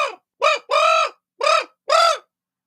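A raven gives five harsh, loud caws close by, each separated by a short pause, with the third call drawn out longer than the rest.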